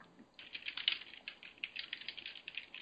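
Fingers type on a computer keyboard in a quiet room, a close, soft, rapid patter of key clicks running steadily with brief uneven pauses and no talking.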